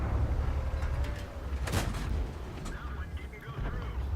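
A tank cannon shot in an online tank video game, a heavy booming blast with a rumbling tail, heard under ongoing game noise and a voice commenting.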